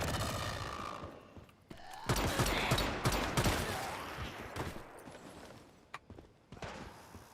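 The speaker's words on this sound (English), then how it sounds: "The heavy gun right there." Heavy gun fire in the survival game 7 Days to Die, with a dense burst of rapid shots starting a couple of seconds in, then scattered louder reports and sharp cracks fading toward the end.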